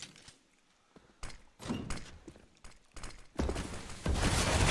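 A door opening in Counter-Strike: Global Offensive during a competitive match, heard among scattered clanks, thuds and footstep-like hits. The sounds come in irregular bursts and build to a denser, louder stretch of game noise at the end.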